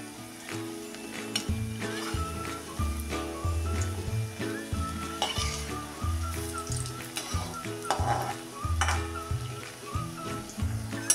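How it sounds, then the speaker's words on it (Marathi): Spinach bhaji fritters fry in hot oil, a continuous crackling sizzle with sharp pops and bursts, while a spoon occasionally clinks and stirs against the pan. "बघा, आता भजीची आपल्या एक बाजू तळून झालेली आहे। बघा, फुगून कशी वरती आलेत। हे आता उलटून घेऊया।"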